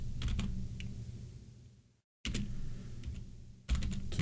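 Clattering bursts of typing on a computer keyboard, close and moderately loud, broken by a brief total dropout before the keystrokes resume, with a heavier thump near the end; nobody speaks.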